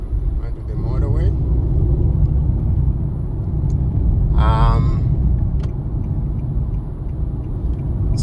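A car heads onto the motorway with a constant deep road rumble and engine hum filling the cabin, while a person speaks briefly over it.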